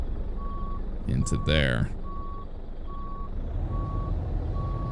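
A heavy-cargo truck in American Truck Simulator gives steady, evenly spaced reversing beeps over a low engine rumble, and someone talks briefly partway through.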